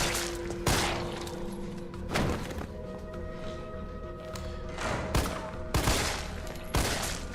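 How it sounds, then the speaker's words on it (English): Pistol fired in bursts in Resident Evil 3 Remake, several sharp loud cracks spaced a second or so apart over a low game background hum. "The burst on the pistols actually it's really inaccurate."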